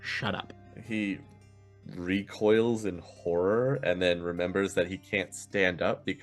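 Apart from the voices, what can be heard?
No everyday noise stands out behind the speech.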